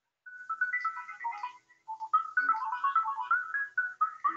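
A song plays through a pair of homemade Bluetooth earphones, heard as a thin, tinny melody of clear tones with short pauses, fairly quiet and without voices.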